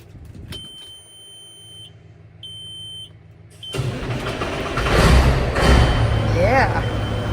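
Peterbilt heavy haul truck that has sat unused, beeping warning chimes before the starter cranks and the diesel engine catches, then a loud rumbling idle close by with some clatter.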